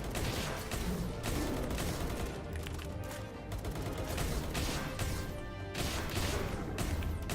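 Gunfire rattles in the video game Palworld, dense bursts of rapid shots and crashing impacts layered continuously, loud and close throughout.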